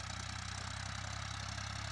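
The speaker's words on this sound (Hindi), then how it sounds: "ये ट्रैक्टर कितना शानदार हकई कर रहा है।" A Massey Ferguson 1035 DI 40 HP tractor engine runs at a steady idle, a close, continuous low diesel throb with an even rapid pulse and no voices.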